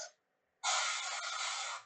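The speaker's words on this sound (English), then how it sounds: "I'm going to try and spray as flat as I can to get the top exterior of the back panel back there" A steady airbrush-style spray hiss paints the back panel of a Land Raider Proteus model tank, starting after a short quiet gap and running smoothly and close for over a second.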